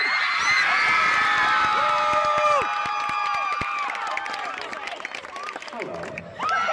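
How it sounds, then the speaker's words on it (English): A crowd of fans at a Markiplier tour event in Phoenix screams and cheers loudly, shrill voices and whoops swelling together, then thinning out as a few shouts linger. "Everybody's screaming"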